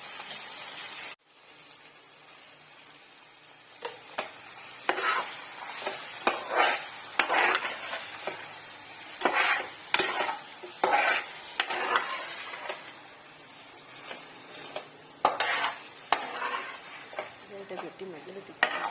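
A spoon stirs a tamarind, tomato, turmeric and salt mixture in a pan, giving repeated scraping and sloshing strokes over a low sizzle, close and fairly quiet, continuing steadily.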